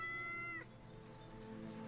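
A cat in the video game Yes, Your Grace lets out one short, clear, high-pitched meow that fades quickly, heard over a quiet background hum.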